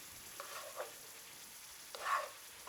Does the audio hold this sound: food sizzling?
yes